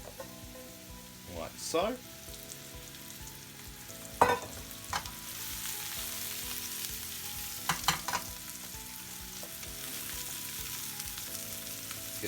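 Two cups of mushrooms hit hot oil in a pan and sizzle steadily, a dense crackling hiss with a few louder bursts as they are stirred and coated, close and continuous.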